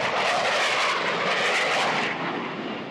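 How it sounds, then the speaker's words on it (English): Jet aircraft roaring overhead at the Cleveland Air Show over Burke Lakefront Airport, a loud, broad, steady rush that fades slightly toward the end, with no voices. "jet scorching the sky, climbing high up into the sun-split clouds."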